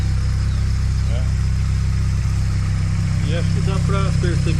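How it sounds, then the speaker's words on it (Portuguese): A Triway motor tricycle engine with an air filter straight off the intake manifold and a roughly 35-litre stainless steel tank runs at a steady idle, a loud continuous drone close by with a voice talking over it. "E acho que dá pra perceber o funcionamento do motor aí, que tá beleza, né?"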